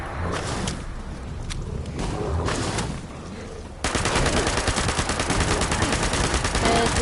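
Sustained rapid gunfire in Fallout 76 on PS4 as the player keeps shooting at anglers, sporadic shots at first, then a loud unbroken stream of automatic fire with no talk.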